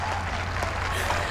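A cricket crowd at Northampton during a women's T20 between England and Pakistan gives steady, dense clapping, a broad wash of applause from many people that fills the ground continuously.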